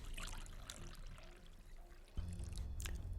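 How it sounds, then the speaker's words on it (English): A quiet liquid splash and pour in a fantasy game story scene, a dribbling wash that swells into a heavier, louder gush near the end, with no voices. "Something splashes all across Jesselton."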